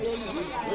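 Brief wavering bleat of a goat, close and fairly loud, lasting under a second with no other sound competing.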